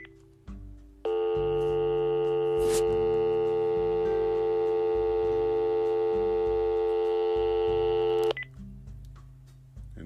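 Telephone line tones play as a podcast switches over to listener phone calls: a short dialing burst, then a loud steady multi-pitch tone holding for about seven seconds before it cuts off, with low rumbling underneath.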